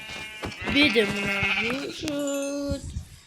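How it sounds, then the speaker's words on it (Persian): Sheep in Minecraft bleat in two drawn-out, wavering calls, one after the other, clear and close over a quiet game backdrop. "آها 2 تا گوسفند دیگه"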